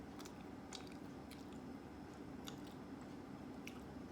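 Someone chewing a mouthful of shrimp cooked in olive oil and garlic with rice, with soft wet bites and occasional crunches close to the mic over a constant background hiss and no speech.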